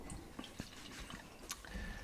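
Beer poured from a bottle into a glass at a North Carolina beer tasting, giving a soft continuous liquid trickle with small drips and glugs, close by and quiet, with no talking.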